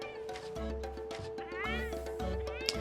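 Palico cat in the video game Monster Hunter Rise, giving several drawn-out, rising meows over a steady game-music hum, close and clear.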